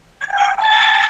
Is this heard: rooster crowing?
yes